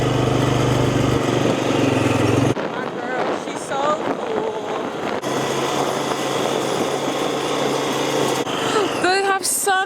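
A small ATV engine runs close by on a farm with a steady buzzing drone, while children's and adults' voices chatter over it and the engine note shifts partway through.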